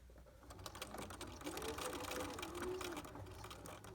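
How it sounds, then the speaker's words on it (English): A sewing machine stitches a reinforced pocket corner in a few short runs, with a back stitch and then forward again, buzzing and rattling steadily at close range without a break. "I'm going to stitch just about 3 stitches and then back stitch and then go forward"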